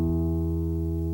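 A sustained E reference tone for tuning a steel-string guitar holds steady and clear, rich in even harmonics, with no voice over it.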